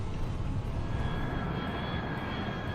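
Steady drone of an airplane engine in Turboprop Flight Simulator as the plane descends low in fog, a constant loud rumble with a faint high whine and no voices.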